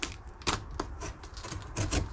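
A sharp blade slices through a racing bucket seat's packaging in quick, quiet bursts of scratchy tearing and crinkling, close up and faint, with short pauses between cuts.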